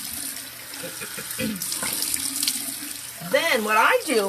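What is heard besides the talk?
water running from a bathroom tap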